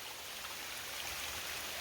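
Water streaming down a rocky chute along the Uvas Canyon waterfall trail, a steady broadband rush that holds even from start to finish with no voices over it.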